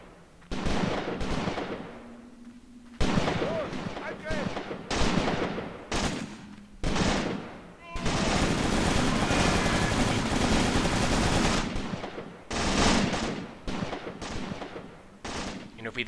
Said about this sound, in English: 2 MG42s right now just opening up on Mongolov and Alexeyev